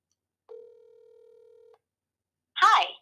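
A single long telephone dial tone sounds alone, cleanly and close, followed after a short pause by a brief burst of speech.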